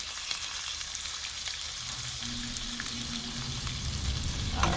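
Sand perch fish frying in a pan, a steady broadband sizzle and crackle with faint scraping as the fish is nudged around, close and even throughout with no voices.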